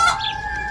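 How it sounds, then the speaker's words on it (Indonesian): A rooster crows, a short close crow with a loud harmonic call that trails off within a moment. "ayam jago pun berkokok karena mengira sudah pagi"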